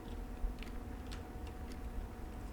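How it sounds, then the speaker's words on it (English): A clock in the video game Blue Prince ticks faintly and steadily, with soft, evenly spaced clicks sitting over a low, constant background hum. "I hear it ticking, but the thing's not swinging back and forth"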